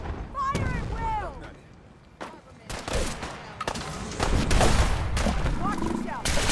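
Gunfire breaks out in Fallout 4 as a foggy fight erupts, with scattered loud shots and bursts that grow denser toward the end, mixed with shouting voices and creature cries.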